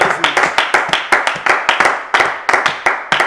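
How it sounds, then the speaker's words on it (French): A congregation at an online intercession prayer session claps loudly in a fast, steady rhythm, many sharp hand claps in quick succession, close and bright, with no voices over them. "On acclame très fort pour le Seigneur."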